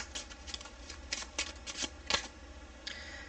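Tarot cards riffle in a series of crisp bursts, some quick and stacked close together, with short gaps between them, heard up close at low volume and with no talking.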